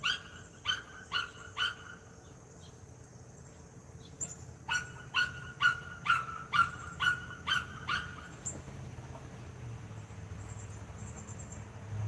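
A puppy barking outdoors in the morning: two quick runs of sharp, high yaps, a handful first and then a longer string, moderately close over a faint background of insects.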